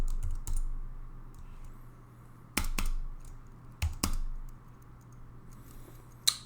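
Sparse, separate computer keyboard key presses click over a low steady hum, with a few sharp, louder strikes spaced irregularly while testing controller support in a game in development.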